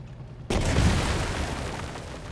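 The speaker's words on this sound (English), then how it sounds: "What I'm going to do is use this tank to now fire at these guys." A tank cannon firing at infantry in the WW2 turn-based strategy game Headquarters WW2: one sudden loud boom after brief quiet, followed by a sustained rumbling tail that slowly fades.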